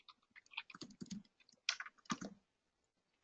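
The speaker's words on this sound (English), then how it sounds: "But I'll also type it in right here." Fingers tap out contact details on a computer keyboard in a quick, uneven run of close keystrokes with short pauses between bursts.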